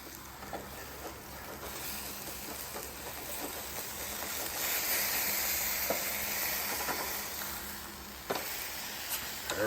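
Burgers sizzle on a camp grill with a steady, moderate hiss, and a few faint clicks and taps sound through it. No one speaks.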